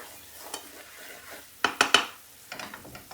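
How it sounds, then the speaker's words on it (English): Spices fry in hot oil for an Indian restaurant-style chana chaat, a soft crackling sizzle broken by a few sharp clinks and scrapes of a utensil stirring in the pan, quiet overall with no speech. "Let the spices awaken in the oil."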